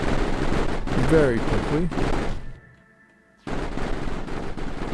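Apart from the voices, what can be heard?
gunfire shooting down enemy flares in Mindustry video game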